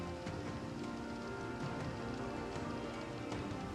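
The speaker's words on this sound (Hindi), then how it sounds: "इस बीच मुंबई को भी बारिश ने भिगो दिया है।" Rain falls at night in Mumbai, a steady patter of drops on surfaces with a constant wash of water at moderate loudness and no speech.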